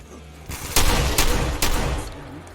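Several loud shotgun blasts ring out in Fallout 4 combat, with three sharp bursts spaced roughly half a second apart over a steady background rumble.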